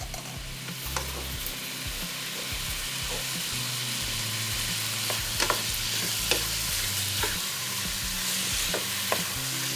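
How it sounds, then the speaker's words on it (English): Meat sizzles in melted butter in a pan while being stirred, a steady close frying hiss with occasional scrapes and spits of the spoon against the pan. "Let's go ahead and stir. Let that all mix in."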